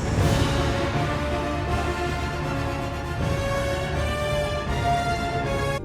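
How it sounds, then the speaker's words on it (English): A neighbor's music plays steadily in the background, a dense sustained mix of tonal layers with no talk over it. "I'm really sorry if you hear music in the background."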